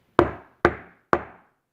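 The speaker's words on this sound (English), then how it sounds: "Haman knocks on his door." Three firm knocks on a wooden door, evenly spaced and close, each with a short decaying ring, in an animated Purim story; no one talks.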